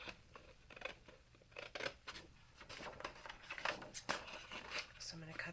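Scissors snip through paper while making an oriental-style shadow box, giving a close series of irregular crisp cuts and rustles under steady talking.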